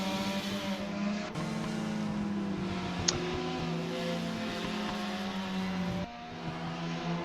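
BMW and Mazda race cars at Oran Park race onto the main straight. Engines howl loud and close, layered over each other with sharp cuts in tone and one brief click. Nobody speaks.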